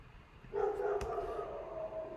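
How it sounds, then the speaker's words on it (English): A dog barks once in the background during an online class, a single short, muffled yelp that trails off into a faint whimpering tone. "this dog continues to bark"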